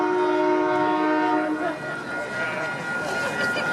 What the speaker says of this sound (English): whenever I try to speak, this train comes